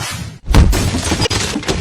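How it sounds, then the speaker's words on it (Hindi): A gate breaking apart with a sudden shattering crash, followed by clattering debris and thuds in a comedic police-station scene; loud, close and brief. "मौका है, गेट टूट गया।"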